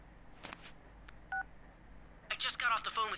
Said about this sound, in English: I just got off the phone with Chie